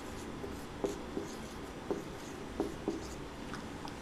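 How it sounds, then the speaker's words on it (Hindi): Chalk tapping and scratching across a classroom board during a physics lesson on motion, a series of short, sharp strokes at irregular intervals, faint and close with no voices. "इधर लिख देते हैं"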